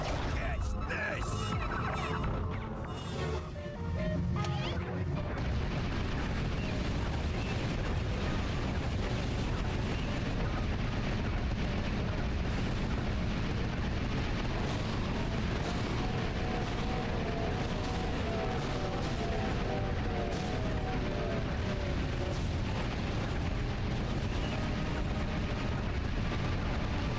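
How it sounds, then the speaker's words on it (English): Turret gunfire and explosions in Ratchet & Clank 2: Going Commando make a dense, continuous barrage of booming blasts and rapid shots, loud and sustained, with a voice speaking over parts of it. "And then shoot the robot using a turret"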